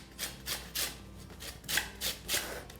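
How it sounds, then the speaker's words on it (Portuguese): An orange peel is grated for zest, taking only the outer coloured skin: six rhythmic rasping strokes, each a short scraping swish, close and clear with no talking. "Tomem cuidado sempre para raspar somente a parte amarela da casca, não pegar a parte branca."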